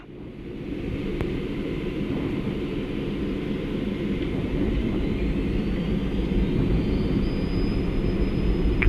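A Lufthansa pilot-trainee training jet's engines spool up to takeoff thrust, a steady, loud broadband roar with a rising whine that builds gradually and holds throughout, with no talk over it.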